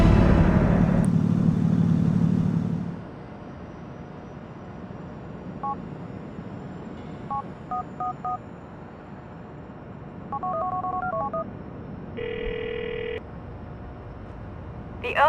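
Cell phone keypad tones dialing a number in the video game GTA 4, short evenly spaced DTMF beeps in two quick bursts over low engine rumble, followed by a steady dial tone, with a loud rumbling passage at the start.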